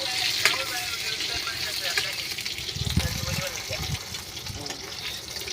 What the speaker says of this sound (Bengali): এই যে আন্ডাটা এখন আমি যেন ফ্রাই করবো গরম তেলের মধ্যে